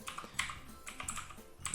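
Quick bursts of keystrokes on a computer keyboard while renaming a layer in Photoshop, several short clusters of close, crisp clicks with brief pauses between them.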